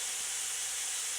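Steady loud hiss of steam venting from an Instant Pot's pressure release, continuous and even with no talking.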